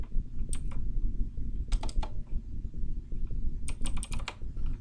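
Typing on a computer keyboard while writing Unity code, with quick bursts of clacking keystrokes separated by short pauses, close and clear.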